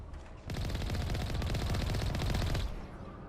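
Sustained automatic enemy gunfire in Mass Effect, a dense rattling burst of rapid shots lasting about two seconds at steady loudness, then cutting off into quieter ambience.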